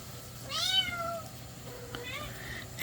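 Kittens cry in the background with a drawn-out, wavering mew and a shorter, fainter second cry, both fairly soft and set against a low steady hum.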